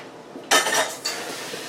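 A pot is lifted off the stove top, giving one sharp metallic clank followed by a second lighter clink and a faint ring, close and without talk.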